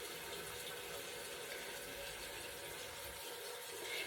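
Steady broadband running water from a tap at a sink, used to wet fingers for mixing a cleanser paste, continuous and fairly close with no speech.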